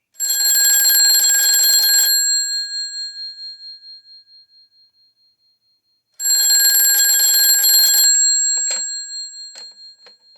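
An old rotary telephone, hooked up through an ATA VoIP adapter, rings with a loud metallic bell in two long bursts of about two seconds each. Each burst dies away, a pause follows, and a few clicks come after the second ring.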